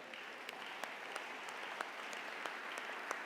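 A church congregation at a French-language Sunday worship service applauding to acclaim the Lord, steady sustained clapping from many hands heard at a moderate distance, with no talk over it.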